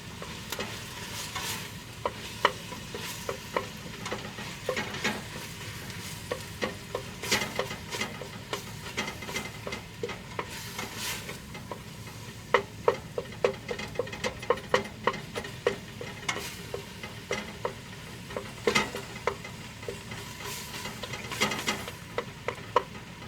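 Spoon stirring through chili ingredients dumped onto cooked hamburger in a pot, with steady sizzling and frequent scraping clicks and taps against the pot throughout, close and moderately loud with no talking.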